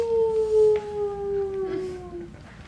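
A single long wolf-like howl, steady and then gently falling, loud and close over faint background noise; it appears to be voiced by a person at a kids' acting showcase rather than a real wolf.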